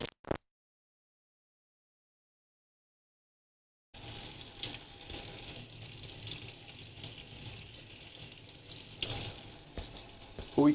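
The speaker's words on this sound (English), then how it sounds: "the stir and also the muddler, which I also need to do a quick rinse of" A bar stirrer and muddler rinsed under a running tap, a steady broad hiss of water that starts after a few seconds of silence and continues loudly to the end, swelling briefly near the close.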